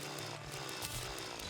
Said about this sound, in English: Hey, this is a drill.